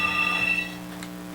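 A telephone rings indoors, a steady electronic ring tone with tonal bursts, fairly close and alone without talk.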